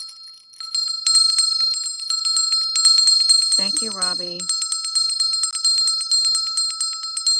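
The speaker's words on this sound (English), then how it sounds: "let me ring this bell for all the bad energy that got off of here" A hand bell rings continuously with a bright, sustained metallic shimmer, loud and close, with one brief spoken phrase breaking in partway through.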